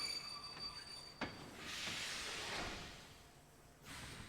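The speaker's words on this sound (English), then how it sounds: "Also, Magic Train." Magic Train in the Kingdom Hearts 2 video game, with a hissing rush of steam and rolling rail noise swelling in the middle, broken by a sharp clack, all at a faint, distant level.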